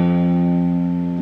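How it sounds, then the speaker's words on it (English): An F note rings out on the first fret of a guitar's low E string after an upstroke, steady and bright for just over a second with no voices. "So let's try pushing this finger down and doing an upstroke."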